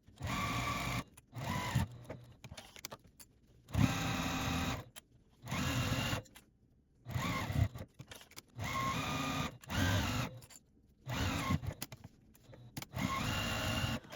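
A sewing machine stitches around all four sides of the lining of a crochet pouch, running in repeated loud bursts of a second or two separated by short pauses, alone with no talk.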